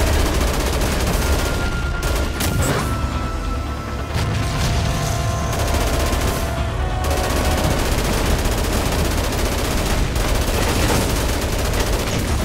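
Heavy machine-gun bursts rattle almost nonstop during a tank fight in the Dead Rising Deluxe Remaster finale, loud and close, with booms and crashes mixed through the barrage.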